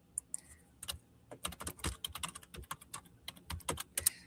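Rapid typing on a computer keyboard, close and fairly quiet, with irregular bursts of clicking keys and short pauses, no talk over it.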